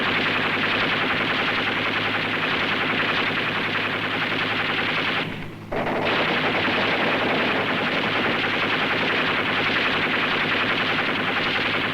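U.S. Navy river patrol boats make a fire run in the Vietnam War, with dense, sustained machine-gun fire roaring loud and close. The fire breaks off for a brief moment midway, then resumes as an unbroken rattle, with no voices.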